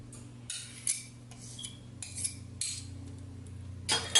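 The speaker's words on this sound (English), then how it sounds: "I'm gonna get this knife out of here." A metal knife pulled out and handled among cutlery, several close bright clinks and scrapes in quick irregular bursts, with a faint low hum underneath.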